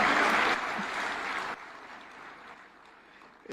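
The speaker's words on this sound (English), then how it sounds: "Another round for applause to Irungu Kanata." An audience at a devolution conference in Homa Bay County claps loudly for a speaker, the applause dense at first, then thinning and fading out within a few seconds.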